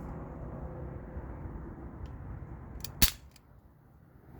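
A single sharp crack from an Umarex Brodax BB revolver fired through a chronograph, standing out clearly over a low steady background hum, with a couple of fainter clicks before it.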